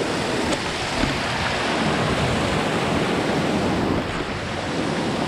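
Steady, dense rush of river water flowing on a mountain hike in Arunachal Pradesh near Sirki Waterfall, a continuous loud roar with no breaks and no talk.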